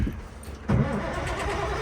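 An old Kenworth cabover truck engine turns over and catches, a short cranking rumble that jumps abruptly into a louder running engine roar, heard close up.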